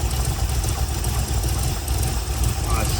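An MGB GT V8 engine idles near 600 rpm, a steady low rumbling burble close by, with people talking over it.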